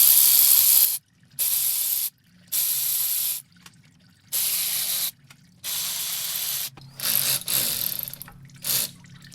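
Water spraying out of a Mercedes 722.6 / NAG1 automatic transmission into a bucket during a solenoid job, in a series of loud hissing bursts of about a second each, separated by short silent gaps.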